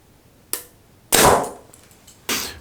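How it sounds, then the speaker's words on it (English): An arrow shot from a Mathews Lift compound bow into a block target produces three sharp, close percussive cracks. The middle one is the loudest and fades with a short decay, and no one speaks. "I just shot, I believe it was this one, through the block target. It buried up in the block target"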